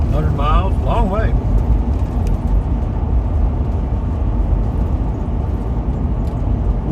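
A car cruising at 45 mph down an open road, giving a steady loud road and engine rumble throughout, with a voice speaking briefly over it near the start.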